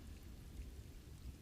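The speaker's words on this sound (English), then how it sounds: "Rain drumming steady on the shake shingles." Steady rain drumming on shake shingles, a soft even patter with low rumbling undertones, constant and fairly quiet throughout with no voices.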